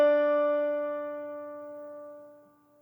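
A single sustained concert E note, the pitch a 5th grade band's B-flat instruments such as clarinet and trumpet play together, held steady and clear for about three seconds, fading slightly at the end with no talk.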